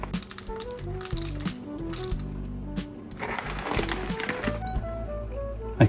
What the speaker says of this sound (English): this is where you'll hear the sound of this machine and that mounted vibration pin